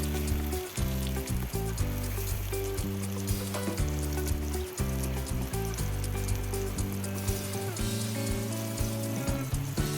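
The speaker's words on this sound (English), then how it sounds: "The sound of frying always makes me hungry." Steady, loud sizzling of stuffed mackerel frying in a pan, crackling and spitting continuously over a low hum, with no voices.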